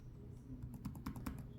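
Keys clatter on a Dell XPS 15 9520 laptop keyboard with shallow, low-travel keys, a quick irregular burst of close, quiet taps with no talking.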